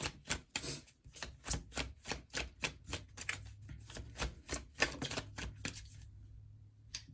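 Tarot cards being shuffled and drawn, a quick run of crisp, evenly spaced card snaps and flicks, fairly close, with a low hum underneath and no voices.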